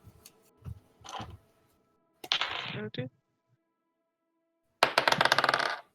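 Dice rolling during a tabletop role-playing game session, several separate bursts of clattering dice skittering and bouncing across a hard surface, close and crisp, with brief silences between the rolls.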